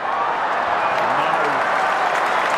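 Large football crowd at a 2005 Brisbane versus Collingwood match roaring and applauding after a Collingwood behind, a steady dense wash of cheering and clapping throughout.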